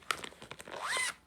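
A plastic see-through file pouch from Walmart is zipped shut: a few quick ticks and rustles, then one smooth rising zip lasting about a quarter second, close and clear with no talking.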